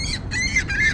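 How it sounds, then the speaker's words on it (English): A seagull squawks three times in quick succession, harsh and fairly close, the calls nearly overlapping with brief gaps between them. "What's up with a seagull there? It's like squawking."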